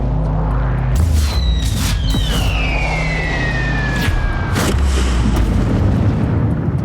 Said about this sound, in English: my action is to magic missile the one in front of my good friend Blackjack